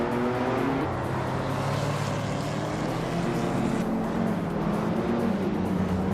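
Race cars in a racing video game drone steadily at close range, several engine tones layered and shifting in pitch as the pack runs together, with no voices over them.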